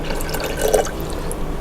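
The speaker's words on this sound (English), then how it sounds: "Just pour a little bit of that in there." Liquid pours briefly into a container on a golf outing, a soft short trickle and splash rising over low background hum, heard alone without voices.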